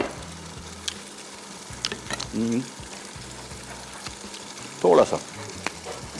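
Egg keema sizzling in a pan while being stirred and mixed, a low frying hiss with a few brief scraping stirs, close and quiet, with someone speaking briefly.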